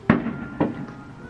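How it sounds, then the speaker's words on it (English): Two sharp fireworks bangs burst outside, the first louder and the second about half a second later, each trailing off into background noise. "was that fireworks?"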